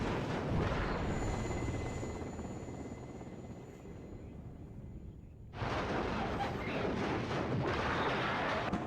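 Cluster strikes and explosions in the video game WARNO make a dense, continuous rumbling roar that dips briefly and then surges back loud, with no voices.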